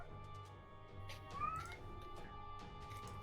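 A cat meows once, a short rising cry in the middle, over a quiet room hum with faint clatter and murmuring around a tabletop game session.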